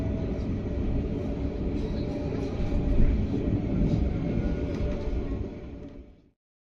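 The Argo Bromo Anggrek express passes a waiting local train, a heavy, continuous rumble and clatter of wheels that swells midway, holds for several seconds, then fades and cuts to silence.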